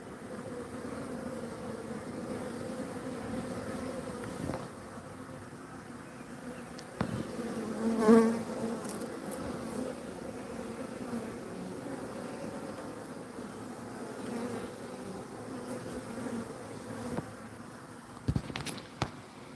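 A honeybee swarm clustered between two hives drones in a continuous low buzz, fairly faint and steady, with a few louder close passes of individual bees.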